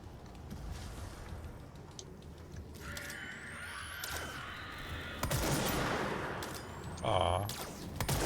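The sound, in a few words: gunfire from the video game Control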